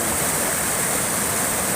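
Steady broadband rush of the Musi River flowing beneath the Ampera Bridge in South Sumatra, Indonesia, a close, even wash of moving water with no voices.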